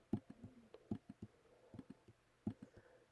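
Computer mouse clicking during a Hexcells puzzle game, a dozen or so sharp, close clicks in uneven clusters, some doubled, against a quiet background with no talking.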